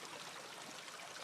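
Water streams out through a hole underneath a pipe under an overpass, a faint steady hiss of flowing water with no pauses.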